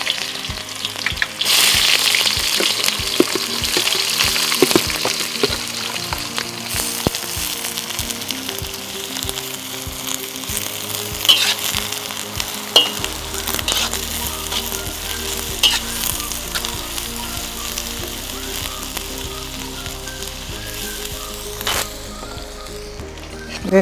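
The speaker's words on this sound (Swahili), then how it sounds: "Kitunguu yetu iko tayari na mafuta iko very hot. Tutaanza kuweka ndani kwa kitunguu." Onions frying in very hot oil, a loud, continuous close sizzle with crackling pops and occasional clinks of stirring running throughout.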